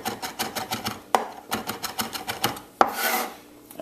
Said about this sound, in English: I'm going to give that a rough chop as well